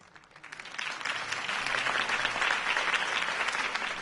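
Crowd applause follows a campaign speech in a Batman video game on PS4, a dense wash of clapping that swells quickly from a light start and holds steady and loud for several seconds.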